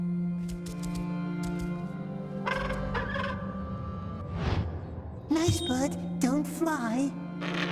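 Small bird chirping in a fantasy stealth game set in a dark underground, several short warbling calls around a shuffling bustle and a speaking voice, with scattered clicks and thumps.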